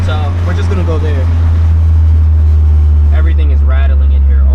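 A flooded Honda S2000's engine idles roughly with a loud, constant low drone inside the car, and someone talks over it.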